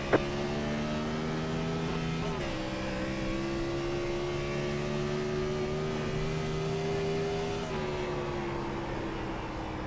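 A Gen 4 stock car engine drones steadily at Phoenix in the iRacing simulator, holding a loud, even pitch with a couple of brief shifts in tone as the car lifts and reapplies throttle, with no talking.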